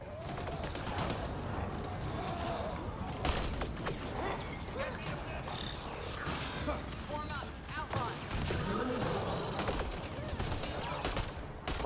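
Gunfire in the video game Mass Effect Andromeda, bursts of rapid shots and crackling fire mixed with mechanical clatter throughout, under a voice talking.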